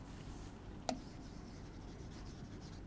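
Chalk or marker scratches and rubs quietly on a board while an equation is written, a soft continuous scraping with one brief tap, faint and close in a quiet room.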